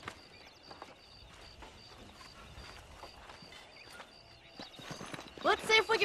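Horse hooves clip-clop in Red Dead Redemption, a soft, steady walking rhythm under talk, joined near the end by a louder whinny and louder movement.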